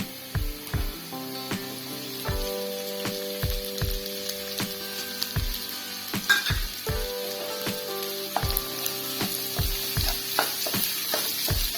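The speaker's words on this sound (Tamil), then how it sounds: "இது நல்லா பொன்முருகா வறுக்கட்டும்" Chopped onions with ginger and garlic frying golden in a pan for a homemade barbecue chicken fry, a constant loud sizzle punctuated by regular knocks and scrapes of stirring.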